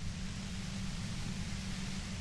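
A steady, even white-noise wash from Disco Elysium, a soft broadband hiss with a heavier low rumble that stays constant throughout, with nothing else over it.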